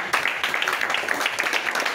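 A church congregation claps together in dense, steady applause lasting a couple of seconds, loud and close, with a few voices mixed in.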